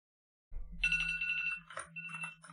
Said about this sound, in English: Where's my phone?